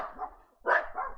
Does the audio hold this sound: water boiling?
no